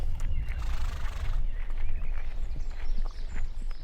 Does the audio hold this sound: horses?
yes